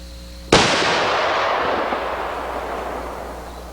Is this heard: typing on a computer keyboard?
no